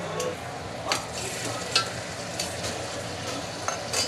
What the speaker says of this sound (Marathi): आपण चांगलं मटण मसाल्यामध्ये मिक्स करून घेऊया